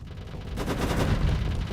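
Rapid bursts of EMP arcing cannon fire from a space battle in the game Starsector, a dense continuous crackle of shots and impacts, loud and sustained without any voices.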